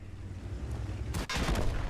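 Tank gun firing in the World of Tanks video game, one sharp loud blast about midway, then a rumbling roar of echo over a low engine drone.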